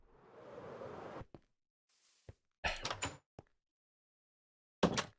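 A blocky Minecraft door swings open with a brief wooden thunk, amid a few short, isolated clicks and swishes separated by silence.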